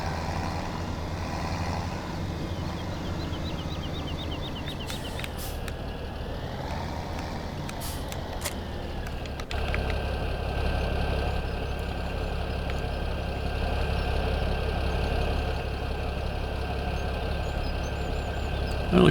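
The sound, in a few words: tractor engine idling in video game Farming Simulator 17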